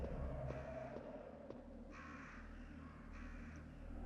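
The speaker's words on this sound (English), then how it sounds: "And now we're attacked by crows." Crows caw several times in a Resident Evil horror game, harsh calls repeating over a steady low ambient drone and game music.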